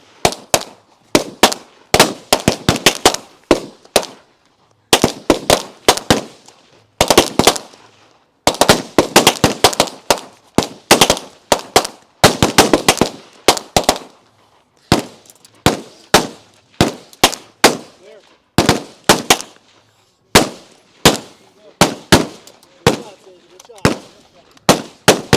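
Rapid rifle and pistol shots ring out across a competitive shooting stage, with sharp cracks in dense volleys and scattered singles over about half a minute, loud and close with a few pauses between strings.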